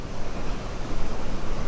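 The Grand River Falls roar with a dense, constant rush of rapid water that fills the scene at close range, with no voices.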